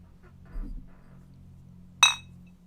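A single bright glass clink rings out near the end, a short sharp chime against a quiet background with a soft low hum.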